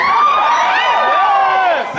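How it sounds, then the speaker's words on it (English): Live concert crowd cheering and whooping loudly and steadily for about two seconds, many voices blending into a dense roar with high shouts rising above it, fading slightly at the end. "I can't even believe people are cheering."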